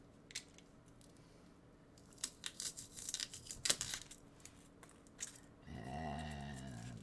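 Packing material for a shipped diorama being cut with a knife, a scattered run of close, crisp tearing and snipping bursts that ends in a steadier low rumble.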